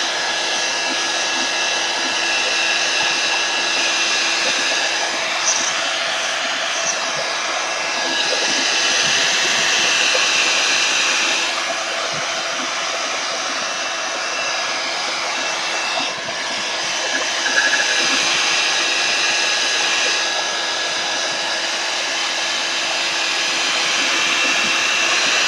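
A heat tool drying Distress Oxide ink roars in a loud, continuous blowing whoosh that holds steady for a long stretch with slight shifts in pitch as it moves, no talking over it.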